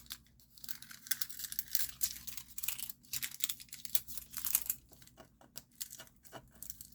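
Plastic being peeled away from a card envelope, a close, steady run of crackling, tearing rips with brief pauses, alone with no talk.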